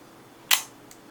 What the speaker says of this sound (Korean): 셔터 소리는 지금에도 상당히 정숙한 편으로 평가받는 CLE입니다